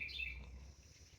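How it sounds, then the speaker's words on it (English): Morning birdsong: a few bright chirps and short whistled notes near the start, then fading to faint calls over a quiet low background hum. "As you see the birds do it every day, you hear them in the background singing to the Lord every morning."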